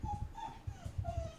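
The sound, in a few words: dog whimpering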